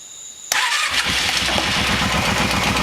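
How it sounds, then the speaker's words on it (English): A Kawasaki Brute Force ATV with a freshly reassembled motor and the choke applied cranks briefly after a moment of quiet, then catches and settles into a loud, steady, pulsing idle close by. "this one didn't take but a second to crank"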